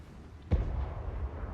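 A dwarf grudge thrower artillery piece fires once in a fantasy battle game, a single sharp low boom followed by a rumbling tail that hangs under the ongoing battlefield din.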